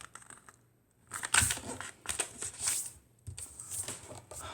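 A sheet of origami paper is folded in half diagonally and creased, with crisp, close crinkles and sharp taps in short bursts separated by brief pauses.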